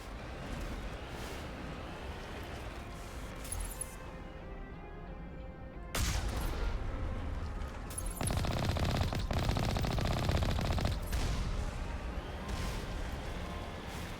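Rapid automatic gunfire from the video game Mass Effect Legendary Edition rattles in sustained bursts, loud and close, with a brief lull before heavier volleys resume and continue to the end.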